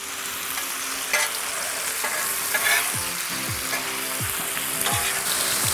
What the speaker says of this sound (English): Put some more bacon out here to cook.